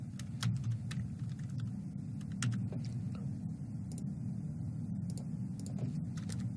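Code being typed on a computer keyboard during a Raspberry Pi ultrasonic sensor and servo motor project: scattered, irregular key clicks over a steady low hum, with no talking.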